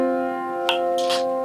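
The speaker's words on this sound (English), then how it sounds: "Fourths are one bigger than thirds, and they sound like this." Two sustained notes a fourth apart hold steadily at moderate volume, with a couple of faint clicks and brief noisy rustles over the tone.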